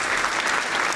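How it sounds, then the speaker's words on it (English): Short applause jingle, a brief burst of dense clapping from a crowd that stays at a steady level for about a second. "I'm gonna play a little clap there."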